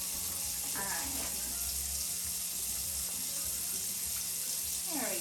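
Water running from a kitchen sink tap while a juicer is emptied and rinsed, a faint steady splash with a low hum beneath and brief clinks of handling.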